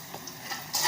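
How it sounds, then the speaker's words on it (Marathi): Salted chili peppers roast in a pan with a close, steady hiss and light crackle that swells louder at the end, with no talking. "चांगली मी भाजून घेणार आहे मिरची"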